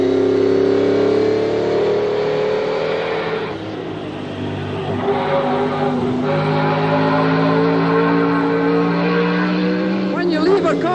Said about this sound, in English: Now let's do some fast driving.